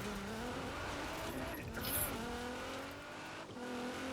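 Racing-game car tires screeching under braking and cornering over a steady engine drone, with squeals rising and falling across several seconds, a brief sharper burst midway, no one speaking.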